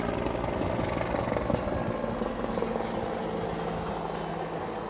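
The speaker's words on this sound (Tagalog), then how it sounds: "may helicopter." A helicopter passes overhead, its steady rotor drone and engine rumble filling the air loudly and continuously without fading, heard outdoors at a residential site with no speech.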